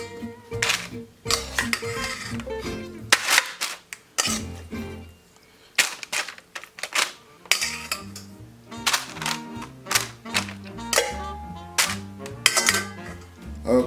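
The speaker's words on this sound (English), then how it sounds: "place the medium baking pan here with some parchment paper here, and we're just going to spread this down" A medium baking pan set down on a counter and parchment paper spread over it while preparing garlic parmesan wings: a run of metallic clatters, taps and papery rustles in uneven bursts, fairly close.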